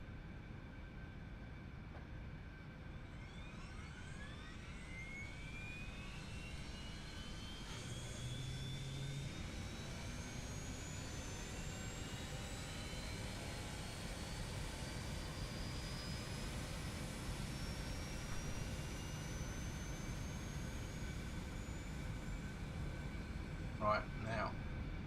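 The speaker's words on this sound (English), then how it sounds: "Let's start engine 1." Engine 1 of an Eclipse jet spools up on a small airfield, with a steady broadband roar and rising whining tones that climb slowly over the stretch, while a person talks over it.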